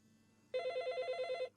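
A telephone rings during a Malay-language radio call-in show, one clear electronic burst of rapid trilling pulses lasting about a second, loud and close after a quiet lead-in.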